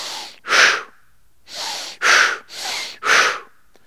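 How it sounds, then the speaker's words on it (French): Six heavy breaths during exercise alternate between inhaling and exhaling in pairs, loud and close, timed to the up-and-down movement of a ball workout with brief pauses between them. "je vais inspirer sur la descente, souffler en bas, inspirer sur la montée"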